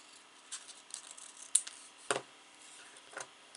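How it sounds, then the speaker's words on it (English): Scissors snipping the corners off paper for a small handmade album, a few crisp close cuts spaced apart in a quiet room, one louder snip in the middle. "Snip off the corners."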